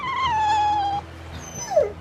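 A dog whimpers in the Tales of Berseria video game, a long falling whine followed after a short pause by a brief higher yelp, close and clear.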